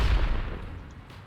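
Bombs exploding in the Satisfactory video game, a heavy booming blast with a deep low rumble that decays quickly over about a second, alone and without talk.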